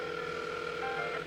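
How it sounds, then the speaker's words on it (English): A sharp, steady electronic ringing tone fills a hall in the Whispers Are Calling game, continuous and fairly loud with no pauses and no voices. "A sharp ringing fills the entire hall, disrupt the pleasant quiet that has settled."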